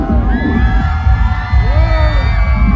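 A crowd of eastern Slovaks shouts and cheers together at a Christmas market, a loud, dense roar of many voices over thumping low music, with drawn-out yells rising above it.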